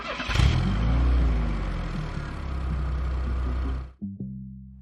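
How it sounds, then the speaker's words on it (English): A car engine starts and revs, then rumbles steadily as the car pulls away, loud and close, cutting off sharply near the end. "They get into Anna's car and start driving."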